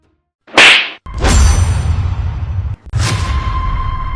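A sharp slap across the face in an emotional family confrontation, one quick swish and then a loud, close crack of palm on skin, followed by more hard whacking hits in quick succession.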